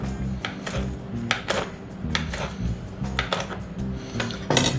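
Basil leaves chopped with a knife on a board, a close run of quick, rhythmic knife taps repeating steadily and briskly with no talking.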